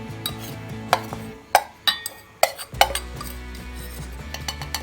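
Spoon clinks sharply against a bowl while besan is stirred into buttermilk, giving a string of irregular metallic taps and scrapes over a low kitchen hum.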